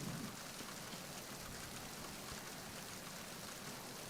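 Rain pouring in Metal Gear Solid 2, seemingly on the deck of a ship: a constant, even hiss of drops on hard surfaces, fairly quiet and steady from start to finish, with no voices.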